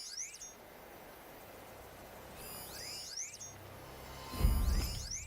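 A bandit camp alarm in Horizon Zero Dawn sounds as a few bright, sweeping electronic squeals over a low game ambience, ending in a louder low thump and rumble; no one speaks.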